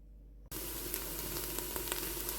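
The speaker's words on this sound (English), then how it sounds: "get a bit of oil in there, and then we're going to go in with those onions till they are nice and translucent" Onions hit hot oil in a pan, and after a brief quiet hum a loud, close sizzle bursts in and holds steady with scattered pops and crackles.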